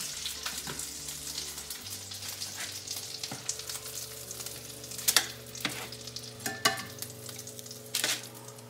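Food frying in a pan until golden before going into a 350-degree oven, a steady crackling sizzle with sharper pops and scraping stirs scattered throughout, close and moderately loud with no talking.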